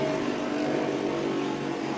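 Racing super boat with big Chief engines and large blowers roaring steadily under acceleration, a loud continuous engine drone with no breaks.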